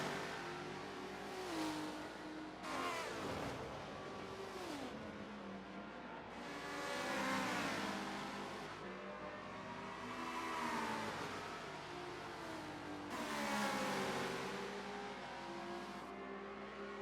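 A Chevrolet and a Ferrari GT race car battle down the straight at Road America, engines rising and falling through repeated upshifts, each car's pitch swelling and fading as they pass, with no voices.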